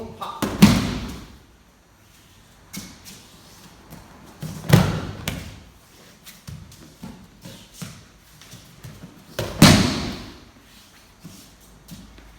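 An aikido partner thrown during ryote dori kokyu nage lands on the mat with three loud thuds spaced a few seconds apart, with quieter shuffling and a voice between them.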